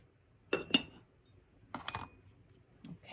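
A teaspoon of salt is stirred into a biscuit mixture, giving a few quiet clinks of a utensil against a bowl, each clink set apart by short pauses.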